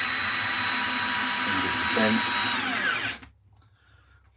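A power screwdriver runs with a steady loud whine for about three seconds, driving screws into wood during a woodcarving job, then stops abruptly; a person speaks over the motor.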